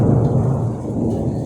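Heavy rain with a deep rolling rumble of thunder outside, a dense, loud, continuous wash of noise with no pauses.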